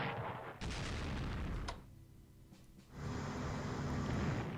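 A warship is destroyed by naval attack in the Strategic Command strategy game, heard as loud blasts of booming gunfire and explosions. The blasts break off briefly, then resume as a sustained rumbling barrage.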